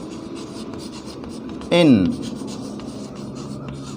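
Chalk or marker writing on a classroom board, a brief loud scratchy squeak lasting a fraction of a second amid a teacher speaking in Hindi.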